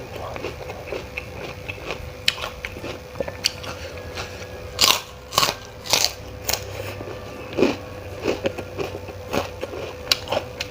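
Crisp crunchy bites into asinan Betawi, an Indonesian pickled fruit and vegetable salad with peanuts and crackers, heard as a series of close, loud crunches spaced irregularly over a quiet background, with no talking.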